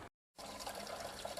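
Water from a garden hose running at full force pours steadily into a DIY plastic rain barrel, a continuous close rushing splash after a brief silent gap.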